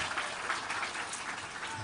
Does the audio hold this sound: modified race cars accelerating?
no